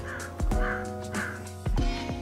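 A crow-like bird caws outdoors, several harsh calls in a row sitting over a steady low background hum, fairly close and clear.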